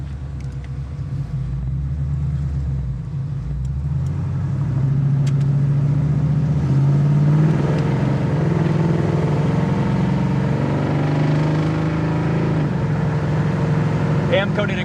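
A 1974 Chevy Camaro driving, its low engine rumble steady and close, rising in pitch and easing as gears change, with someone talking over it.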